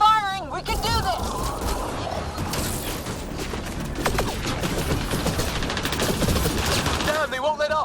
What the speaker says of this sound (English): Just keep firing, we can do this!